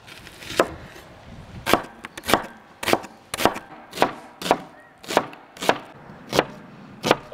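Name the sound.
chopping onion with a knife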